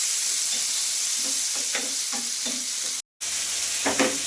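Tomato and green chillies frying in a pan on a stove, a steady close sizzle and hiss with soft stirring scrapes and a brief dropout near the end.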